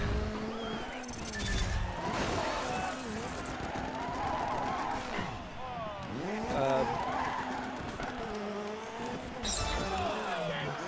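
Continuous tire squeal and skidding from a car drifting in a racing video game, wavering pitch over engine roar and game music, with a person talking throughout.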